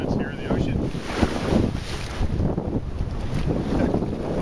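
Wind and waves buffet a boat out on the open ocean, a steady broadband rush of gusts and water wash with microphone wind rumble, loud and continuous throughout.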